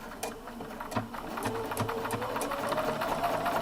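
A Bernina 770QE Plus sewing machine starts up and stitches, its rapid mechanical whir close and steady, with a few sharp ticks at the start before the motor settles into a continuous hum.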